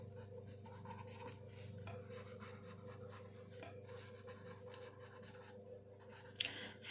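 Continuous scratchy writing strokes as a maths statement about bananas bought for 90 rupees is written out in a Class 6 ratio and proportion lesson, steady and close over a low room hum, with a sharper knock near the end.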